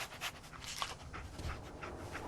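Dogmeat, the dog companion in Fallout 4, pants rapidly and sniffs close up in quick rhythmic breaths. The sound is quiet and steady, with no one talking over it.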